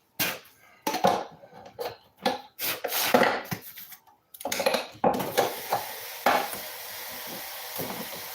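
A can of whole tomatoes is opened in a home kitchen for a stew, with irregular bursts of metallic clicks, scrapes and clatter separated by short pauses.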